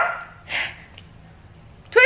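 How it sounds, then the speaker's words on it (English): A pet dog named Twizzy lets out a short bark, followed moments later by another sharp yip, both fairly close against a quiet room. "Twizzy, don't you bark."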